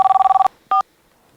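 A hands-free phone gives a quick run of electronic trill pulses, then a short single beep after a pause; loud, close and without any voices.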